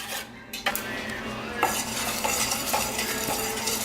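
A spoon stirs sugar into cranberry sauce in a pot, with clinks and scrapes against the metal over a steady low simmering bubble and hiss, close and busy, with no talking.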